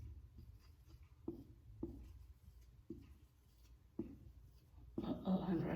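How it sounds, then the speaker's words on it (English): Marker or chalk tapping and scratching on a classroom board while many music notes and rests are drawn, a series of sharp, quiet taps at irregular intervals, then a brief louder rustle near the end. "I'm going to write a lot of notes and a lot of rests"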